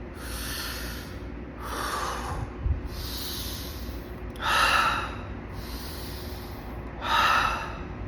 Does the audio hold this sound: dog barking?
no